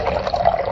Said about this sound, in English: to prove Archimedes' principle, we first must fill this bucket with liquid